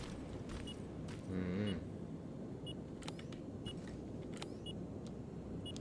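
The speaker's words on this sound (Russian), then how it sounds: "Что пикает, блять?" Electronic beeping in Terminator: Resistance, several short, evenly spaced tones over a steady game background hum, with a brief louder burst of noise early on.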